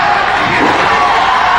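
Wrestling arena crowd roaring and cheering wildly at a Roddy Piper match, a loud, continuous wall of shouting voices.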